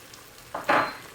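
Mutton karahi frying in a pan right after garam masala is added: a short, close burst of hot sizzling that flares up suddenly and then slowly fades.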